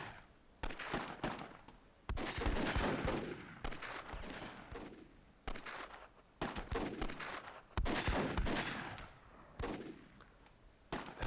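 Gunfire in the fantasy strategy game Myth II: Soulblighter during a multiplayer match, with repeated bursts of shots and impacts in uneven clusters, loud and close, running through the whole stretch without talk.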